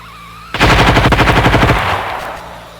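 A North Korean burp gun fires a rapid burst of about fifteen loud, close shots over roughly a second, then the echo decays into a lingering rumble.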